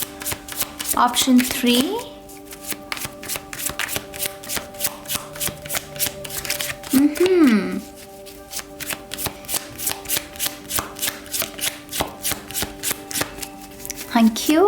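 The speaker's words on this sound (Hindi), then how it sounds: "शफल कर लेते हैं कार्ड्स को ऑप्शन 3 के लिए" A deck of tarot cards is shuffled over and over in quick, steady riffling bursts that run nearly the whole time, close and crisp, while someone talks briefly at intervals.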